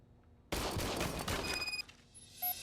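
Test shots from an old, freshly serviced service pistol in RoboCop: Rogue City, a loud close burst of gunfire lasting about a second, then fading echoes and faint electronic tones.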